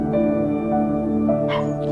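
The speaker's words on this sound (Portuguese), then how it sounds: "minha cachorrinha começou a latir aqui dentro" A small pet dog yips and whimpers indoors in short, high, close-up bursts over a steady hum of background music and room sound, without any talking.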